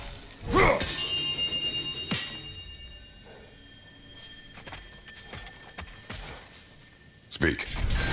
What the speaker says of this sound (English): I have installed these handy chimes